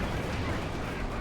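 Panther tank gun and battle fire in Company of Heroes 2, a dense loud wash of rumbling blasts and crackling gunfire filling the whole moment.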